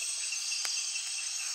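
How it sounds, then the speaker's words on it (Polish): A grasshopper chirps in the Amazon rainforest at night, a steady high insect buzz with a couple of brief louder clicks, heard alone with no voices. "To jest konik polny."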